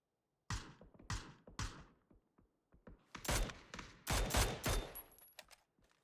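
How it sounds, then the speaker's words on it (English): Long-range gunfire in the battle royale game PUBG during a Nordic League esports match: a few spaced single shots early, then denser bursts and rapid volleys that fade out, loud and sharp with no talk over them. "A few long shots by Storinam. Fortunately, not hitting any results."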